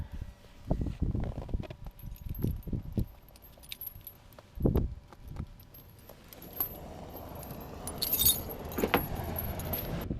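Metal tire chains clink and jangle in short, close bursts as they are unhooked from a truck tire, with an engine idling and rumbling steadily underneath.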